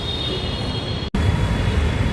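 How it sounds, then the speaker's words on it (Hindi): Metro train pulling into Noida Electronic City station, with a loud, steady rolling rumble and a thin high wheel squeal. A brief dropout breaks the sound near the middle. No one speaks. "बस मेट्रो का वेट कर रहे हैं, आने ही वाली है।"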